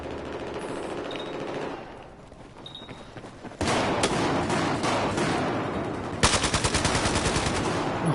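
Rapid automatic gun bursts in Battlefield 4, loud and close, firing in two strings with a pause between and crisp repeated shots at the end, over background battle ambience.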